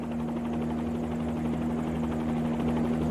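A Bell 47 helicopter engine runs in a flight simulator, a steady, close buzzing drone with a rhythmic pulsing that holds at an even level throughout.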